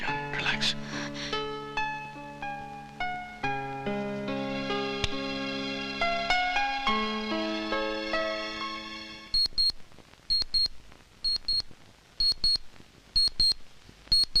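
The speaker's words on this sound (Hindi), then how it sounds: "इस घड़ी की आवाज सुन रहे हो?" A clock chimes and rings in a house, a run of sustained bell-like tones fading out, then a series of short, sharp, evenly spaced beeping rings.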